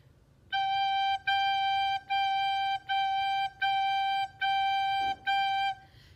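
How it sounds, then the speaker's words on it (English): A recorder plays the note G seven times in a row, each note tongued separately with short even gaps, clear and close with nothing else sounding. "When I have my fingers covering the holes to make the note G come out,"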